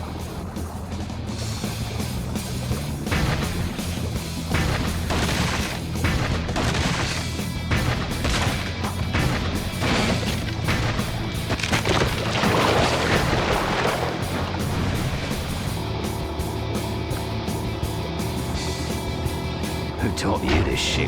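A mounted gun in the Flushed Away PS2 game fires in repeated booming bursts over a busy mix of water, crashes and game music, with voices speaking in between.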